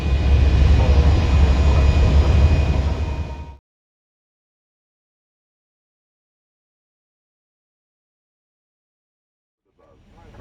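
An airliner lands on autoland at Dakar, Senegal: a loud, steady engine and rolling roar lasts a few seconds, then cuts off to silence, and a faint noise returns at the very end.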